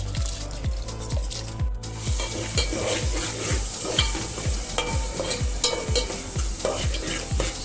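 Paneer pieces and rice are stirred in a pan for paneer pulao, a steady rhythmic scraping of the spoon against the pan repeating about twice a second over a light sizzle, close and without speech.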